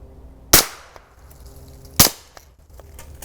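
Two sharp, loud pistol reports from an unsuppressed Glock ring out about a second and a half apart, each with a short echoing decay.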